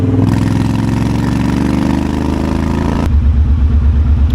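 A motorcycle engine drones steadily and loudly while being ridden on the way into a city, then drops to a lower, lumpy throb after a gear change, close and continuous with no talking.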